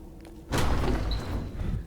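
A door in the video game Uru: To D'ni gives a single dull thud, followed by a lingering low rumble under a quiet background.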